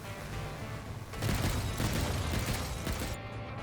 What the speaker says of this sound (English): love the rockets.